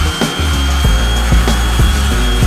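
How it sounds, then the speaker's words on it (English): An electric sander runs steadily inside a camper van being converted, a loud, continuous whirring drone with periodic thumps and rattles of the tool against the workpiece, close by with no talking. "I'm running the sander right now on the Kodiak"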